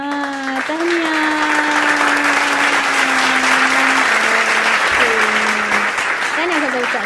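A studio audience at a Jawi-lesson quiz show claps in a steady, dense wash of applause lasting several seconds, with a sustained tonal hum running beneath it.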